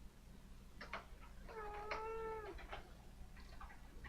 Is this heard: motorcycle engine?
no